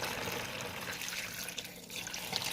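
Vinegar poured from a bottle into a plastic pan to submerge a rusty metal piece, a steady close splashing, gurgling pour with no pause.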